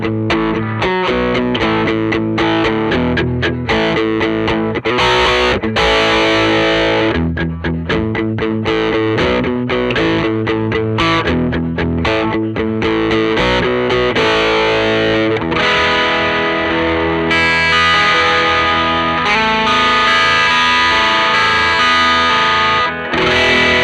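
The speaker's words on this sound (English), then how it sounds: "let's check out what a distorted tone might sound like with the same exact setup" Distorted electric guitar played through an amplifier and miked at the speaker cabinet, loud and continuous, with chugging rhythmic chords, brief cut-offs and sustained ringing notes.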